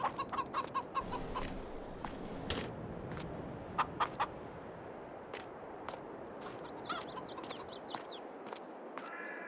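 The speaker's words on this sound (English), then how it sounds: "We also have our chickens." Chickens cluck and squawk intermittently inside a coop in Farming Simulator 22, several birds making short, sharp calls over a soft, steady background of farmyard ambience.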